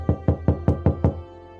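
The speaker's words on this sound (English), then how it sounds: "some pony came knocking at her chambers" Six even knocks rap on a chamber door in quick succession, close and crisp with a woody resonance, followed by quiet.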